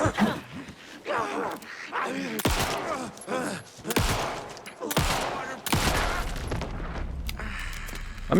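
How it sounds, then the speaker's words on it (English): Repeated gunshot bursts from weapons in the video game Alan Wake II, several loud sharp blasts in rapid succession mixed with game sounds, with a voice talking over parts of it. "I'm using all my bullets here for some reason."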